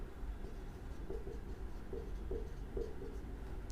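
A pen scratches out figures on paper in short, repeated strokes, a faint rhythmic scribbling over a steady room hum.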